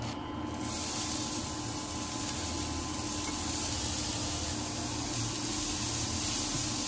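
Lachha semai vermicelli frying in a pan over medium-high heat, a steady, loud, even sizzle and hiss that holds without a break and with no voices.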